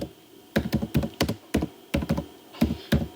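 Keys on a computer keyboard are typed in a steady run of about a dozen crisp, close clacks with short pauses, a search term being entered, with no talking.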